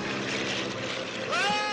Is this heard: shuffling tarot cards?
no